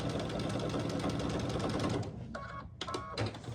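Rapid, rhythmic chatter of a sewing machine stitching fabric for a pumpkin door hanger, running steadily for two seconds, then slowing into a few short bursts separated by brief pauses.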